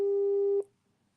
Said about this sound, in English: His phone is ringing.